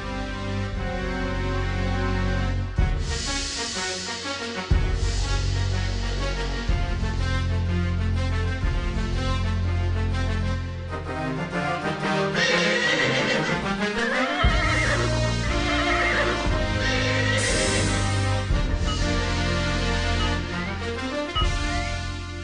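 A horse neighs in an animated Hindi Vikram Betal story, heard loudly several times over a continuous musical score.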